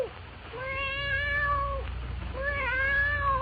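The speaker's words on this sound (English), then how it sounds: "A cold black cat that, awakened by the opening of the door, rises and stretches, mewing plaintively" A black cat on a bed in a radio drama, mewing plaintively in two drawn-out, wavering meows, close and clear with no talk.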